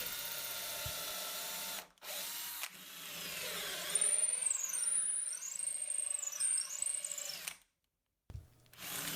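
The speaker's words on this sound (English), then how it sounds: "So here I'm doing the very same as with the neck, and I'm going for bigger and bigger drills" A power drill bores bolt holes with progressively larger bits while an acoustic guitar is rebuilt, whirring steadily for several seconds with a rising, wavering high whine, then stopping abruptly before briefly starting again.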